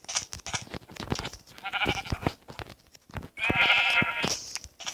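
Bleating from Minecraft sheep, two wavering bleats heard close, a shorter one midway and a longer louder one toward the end, amid steady clicking and tapping game sounds.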